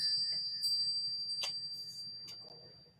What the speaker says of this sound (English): Let's call in spirit with a little bit of wind chime time